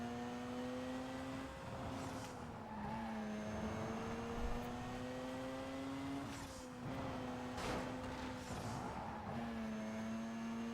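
A car driving in circles in Need for Speed Most Wanted, its faint engine drone rising and falling in pitch repeatedly as it revs and shifts, with brief skid-like bursts.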